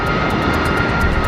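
A-10 Warthog jet aircraft roaring steadily and loudly with a constant broadband engine drone and a faint whine, close and alone with no voices.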